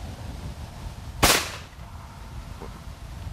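A single sharp shotgun blast fired at a springing teal clay target on an outdoor shooting range, a crisp crack with a short decaying tail against a quiet background, followed by a faint distant pop.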